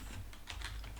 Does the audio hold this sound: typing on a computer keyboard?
yes